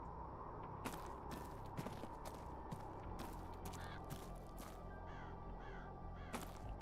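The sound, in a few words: bird calling in a video game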